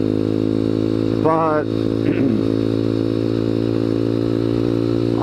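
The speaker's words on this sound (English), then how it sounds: "on the Honda Grom, you know, putzing around like I am doing today" Honda Grom motorcycle cruising at 45 mph, a steady mid-pitched engine drone held close throughout, with someone speaking briefly over it near the start.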